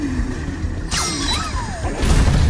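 Enemies in the video game Astro Bot wake up and smash, with a sudden shattering crash followed by swooshing, descending game effects over a steady background bed.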